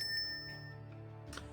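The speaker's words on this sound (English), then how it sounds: "The bell over the door jingles as you enter the shop." Shop door bell in the Choices video game, a brief light metallic ring with a bright sustained tone, then a soft jingle near the end, quiet and alone.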